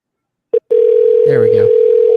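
A phone call rings out on the line: a short beep, then a steady, continuous electronic tone that holds throughout, with a voice briefly talking over it partway through.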